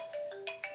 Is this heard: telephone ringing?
yes